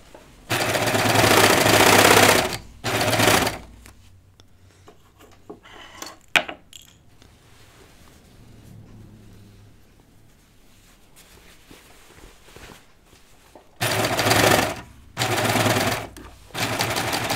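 A sewing machine stitches the seams of pull-on jeans, running in loud rapid bursts with quieter pauses of fabric handling between them; the final bursts come as thicker seams are helped through.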